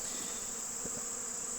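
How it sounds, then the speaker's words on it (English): A bee buzzes close against a microphone near beehives, a steady sustained drone with a bright whine running unbroken through the moment, accompanied by faint low bumps. "there's a bee on the mic"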